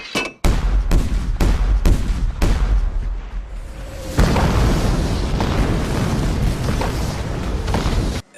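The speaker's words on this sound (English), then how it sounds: "one army's bombarding them with shells" Artillery shells explode in a movie battle scene as one army bombards another: a rapid series of loud, heavy booms in the first half, then a sustained roaring barrage of blasts and rumble, close and dense.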